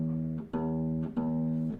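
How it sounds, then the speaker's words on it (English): A guitar's low E string, tuned a quarter step down, is plucked three times in a row, each note ringing out clearly and sustaining close up, with no talking. "This is the top E string."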